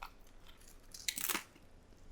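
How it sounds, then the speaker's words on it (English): A single tortilla chip is bitten with a short, sharp crunch followed by a few crackling chews, close and fairly quiet against a hushed kitchen. "tortilla chips are really great for crunch"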